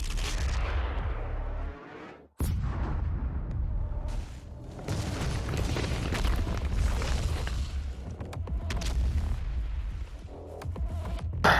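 A huge cannon firing in Doom Eternal, a heavy booming blast after a brief pause, followed by sustained rumbling explosions and crackling debris, loud and dense with game sound effects.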